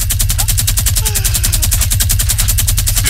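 Sustained minigun fire in Fortnite, an unbroken rapid stream of evenly spaced shots at full volume for the whole stretch, with no talking over it.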